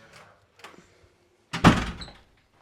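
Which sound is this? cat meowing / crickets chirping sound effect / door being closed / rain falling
door being closed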